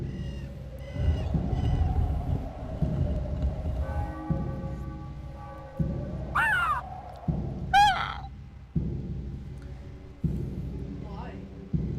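A crow caws in The Elder Scrolls game, several sharp calls around the middle and near the end over a low ambient drone and steady in-game background hum, with a person talking at times.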